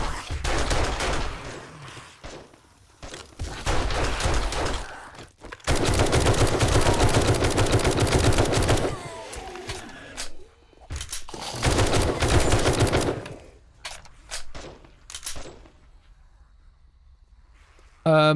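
Rapid automatic gunfire from the End Z mod in a first-person zombie survival game crackles in long sustained bursts, separated by brief pauses and ending in a few scattered shots.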